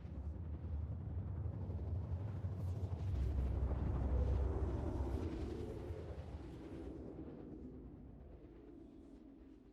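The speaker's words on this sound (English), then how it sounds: "they have changed the quantum drive sounds on the travel bit" Quantum drive travel in the Star Citizen space game, a deep, rumbling roar that swells and then slowly fades over several seconds, heard alone without voices.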